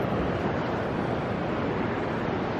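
Ocean waves at the water's edge on an eroding North Topsail Island beach: a continuous broadband wash of surf, loud and steady, mixed with wind rumble on the microphone, with no voices.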